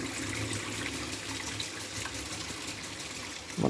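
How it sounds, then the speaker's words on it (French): Hot water running from a tap into a container holding laundry powder, a steady close splashing flow that holds on throughout and surges slightly louder at the very end. "Là, je mets de l'eau chaude."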